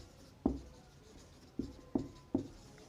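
Chalk or marker strokes on a classroom board during a physics lecture: four crisp, separate taps and scrapes, near and fairly quiet, with short pauses between them and no voices.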